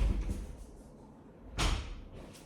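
A house door opened to let a dog out: a thud at the start, then a louder bang and rattle partway through, close and brief with no talk.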